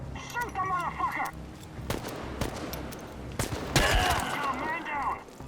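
Gunfire crackles in a firefight in the video game Chernobylite, with sharp single shots and short bursts scattered across the clip. Shouting voices and radio-like chatter run alongside the shots.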